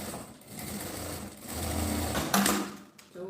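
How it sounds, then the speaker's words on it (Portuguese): A sewing machine runs steadily as it stitches a seam in the fabric of a small phone-holder bag, its motor hum close and continuous, easing briefly before speeding up again. "Deixa eu passar uma costurinha aqui."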